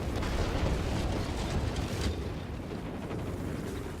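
Rockets launched from a LaGG-3 fighter in World of Warplanes, a rumbling burst of blasts and booms over a constant engine drone, fairly loud and sustained, with no voices.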